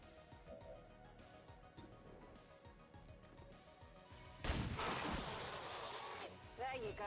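Squad gunfire in XCOM 2 Long War of the Chosen erupts in one loud, heavy blast that decays into a lingering crackle, following quieter game sounds and a voice.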